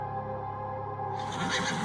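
A horse whinnies in The Séance of Blake Manor, a drawn-out neigh that swells and brightens toward the end, close and fairly loud over a low ambient hum.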